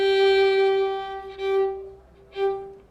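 A sustained bowed G note played with the third finger on a violin's D string, steady and close, with faint breathy noise swelling briefly twice near the end.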